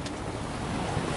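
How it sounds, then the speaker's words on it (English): Waves breaking over the bow of the sailboat SV Colmena while sailing close-hauled offshore near Nicaragua, a steady broadband rush of water and wind noise with no voices. "we're sailing, god damn, taking waves over the bow"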